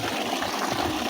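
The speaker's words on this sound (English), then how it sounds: "We add water to this one." Water gushes steadily into a container to mix hydrogel for an irrigation setup, a continuous splashing rush heard close up, with no voices.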